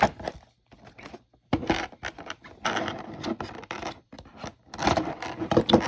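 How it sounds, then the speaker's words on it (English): Tape being peeled and torn off a Jada Toys Street Fighter II Guile figure box, close scratchy rips and crinkly rustling in irregular bursts with short pauses between. "Gotta get rid of the damn tape."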